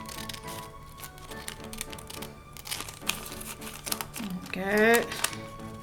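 Scissors cut through a paper bag, making crinkling rustles and sharp snips in short bursts, close by, while a person talks over them.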